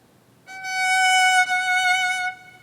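A single sustained bowed violin F sharp rings clearly for about two seconds, steady and bright, then stops.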